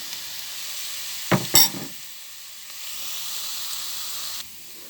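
Chopped onion frying in a pan for a prawn curry gives a steady, close hiss of sizzling throughout, broken by a couple of sharp utensil clatters early on, with no talking.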